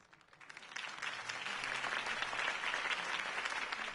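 Crowd applause following Harvey Dent's campaign speech in a Batman video game, clapping rising from a few scattered claps into full, steady applause at moderate distance.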